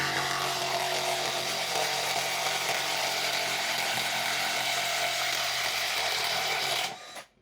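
A DongCheng DCPB358 impact wrench loosening a bolt: a loud, continuous mechanical rattling hammer that runs steadily for about seven seconds, then stops abruptly.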